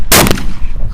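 A single sharp shotgun blast at a sporting shooting competition, loud and close, with a brief ringing decay and ambient noise after it.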